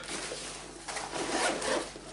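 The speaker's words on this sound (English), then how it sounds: "It's like when you've got your zips done up" Zips on a 28-litre backpack being pulled closed, a couple of short scratchy rasping strokes close by, with a quieter stretch before them.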